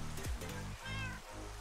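Cats meow in Minecraft, two or three short, close mews in quick succession over a rushing water background.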